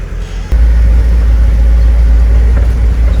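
Car circling a town square in Armenia: a steady, loud low engine rumble that starts abruptly about half a second in and holds continuously, close by, with no voices.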